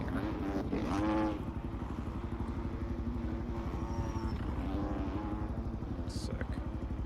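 A KTM motocross bike engine in the MX Bikes racing game at a Portugal MXGP round, a steady buzzing two-stroke-like drone that revs up briefly near the start, then holds a near, rhythmic idle throb.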